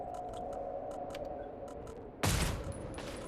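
A short burst of video game gunfire cuts in loud and sudden after a stretch of quieter background game sound, then fades into lingering noise.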